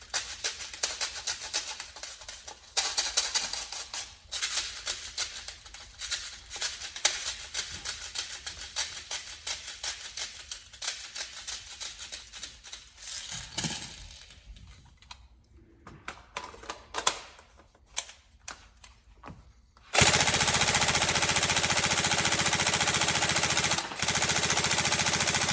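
Upgraded Tokyo Marui SCAR-H DMR next-generation recoil shock airsoft electric gun firing rounds in rapid mechanical bursts for about twenty seconds, close and loud, then a steady broadband hiss takes over.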